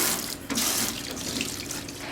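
Tap water runs steadily into a sink while crappie fillets are washed, a loud continuous broadband rush with slight splashing variations throughout.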